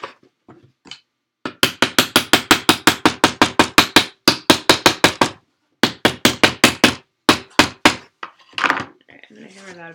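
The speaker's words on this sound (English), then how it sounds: "I'm going to hammer that a bit more in a minute." Hammering pieces of a Broken Token organizer, with a long run of rapid, even, loud taps, a brief pause, then more quick strikes, ending with a few scattered knocks and a short stretch of voice.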